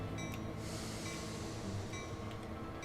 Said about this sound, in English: we're going to go ahead and move this train forward a little bit more